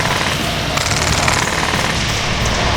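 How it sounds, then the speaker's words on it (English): A PolarStar M249 Fusion Engine electro-pneumatic airsoft gun fires BBs in one loud, continuous rapid burst. The rattling chatter holds steady from start to finish. "This thing just pumped BBs out from start to finish."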